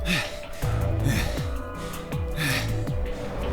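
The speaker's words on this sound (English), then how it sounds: "Why are you guys breathing so hard?" Video game characters in Virtue's Last Reward breathe hard, a run of loud, voiced gasps and panting breaths repeating in quick rhythm, close and heavy, with no words spoken.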